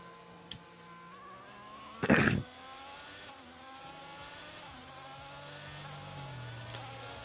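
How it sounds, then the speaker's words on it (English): A video-game F1 race car at full throttle produces a steady, buzzing engine drone with rising harmonic whine over the few seconds, plus a brief sharp burst of noise early on; no talk. "Full throttle so I can get ahead of this car that's coming out of the pits."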